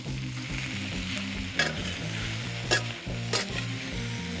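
Egg noodles frying in a hot wok for char kway teow hiss with a loud continuous sizzle, with a few sharp metallic clanks of tossing and stirring cutting through.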